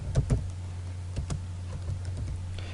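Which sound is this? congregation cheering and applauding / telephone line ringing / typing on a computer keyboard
typing on a computer keyboard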